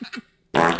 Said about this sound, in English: This is perfect fart.